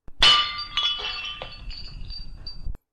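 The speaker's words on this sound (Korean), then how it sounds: "채미와는 자신의 왼손에 들려진 찌그러진 양은 막걸리 술잔을 다시 한번 떨어뜨린다" A dented aluminum makgeolli cup drops and strikes the floor with a single bright metallic crash, then clattering, ringing rattles that fade out, staged as a drama sound effect.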